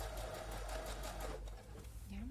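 A sewing machine stitches a seam joining the bodice and lining of a button-up dress, running as a steady, close mechanical whirr with a rapid needle rhythm, faint talk at times.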